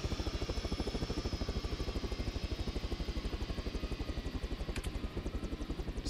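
A helicopter in Arma 3 sits parked with its engine running, a steady rapid rotor chop pulsing evenly throughout at close range, with a brief faint click near the end.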